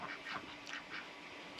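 Ducks quack in a cherry tomato and fruit orchard, several short nasal calls in a quick, irregular series, fairly close and moderately loud against soft outdoor background.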